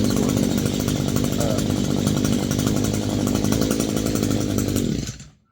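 Weedeater two-stroke engine running on a new carburetor, a loud close buzzing drone held steadily for about five seconds before it quickly cuts out into silence.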